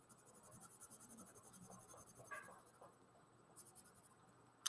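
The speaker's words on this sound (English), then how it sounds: "you're going to draw a little bit this and shade that in" Pencil drawing and shading on paper for a heart diagram: steady rhythmic back-and-forth scratching strokes, close and fairly quiet, easing off briefly before a few more strokes.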